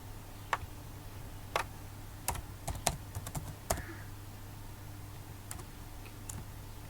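Irregular, sharp clicks of keys being typed on a computer keyboard, sparse bursts of a few strokes with pauses, near and moderately quiet over a steady low hum.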